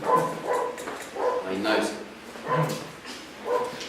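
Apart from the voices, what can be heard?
dog barking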